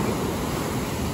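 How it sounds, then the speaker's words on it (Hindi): Ocean surf rolls steadily toward the shore, a continuous broad wash of waves with wind rushing across the microphone, loud and close with no voices. "देखो पीछे से कितनी उफान मारती हुई आती है गुस्से से लहरें,"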